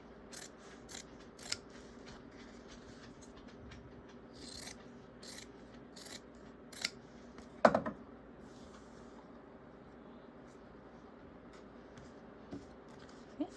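Scissors trim across the fabric of a sewn pocket in a series of sharp, close snips spaced irregularly over a quiet background.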